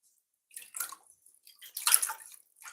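Raw chicken rinsed with water and vinegar while a jerk chicken stew is prepared, giving short splashing and trickling bursts, one brief wash and then a fuller rush of water, close and fairly quiet.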